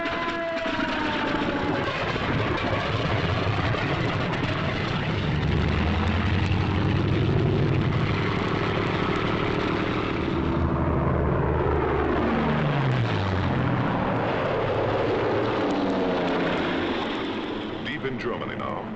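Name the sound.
WWII fighter aircraft engines, Mustangs and Messerschmitt 109s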